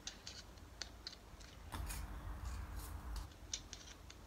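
Sharp scissors snip paper around a sunflower shape with quick clicks and crisp slicing strokes, close and quiet, in short uneven bursts.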